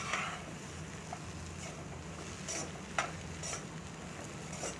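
Potato and pea masala is stirred in a pan, with soft, repeated scraping strokes of a spoon over a low sizzle, quiet and close, with no one talking.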